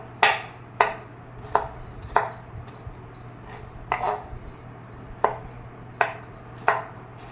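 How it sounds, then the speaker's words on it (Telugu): A knife cuts raw mango into thin pieces on a board, giving about ten crisp chops at a steady, unhurried pace with short pauses between strokes. "శుభ్రంగా కడుక్కొని సన్న ముక్కలు కట్ చేసుకొని"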